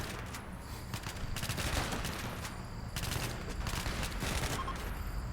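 Gunfire during a RimWorld firefight, repeated bursts of automatic shots at moderate distance, rattling in clusters over a steady low battle rumble.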